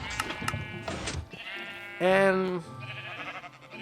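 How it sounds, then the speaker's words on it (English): Sheep bleat in a Minecraft-like game, one loud wavering bleat standing out among fainter blocky game sounds, while someone talks over part of it. "it's small enough for the baby sheep to come this way"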